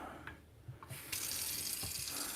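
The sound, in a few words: running water rinsing butter in cold water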